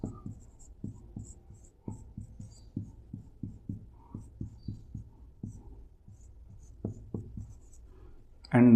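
Chalk or marker strokes on a lecture board, a run of short, steady taps and scrapes at a moderate pace that pause briefly, with a louder burst at the very end.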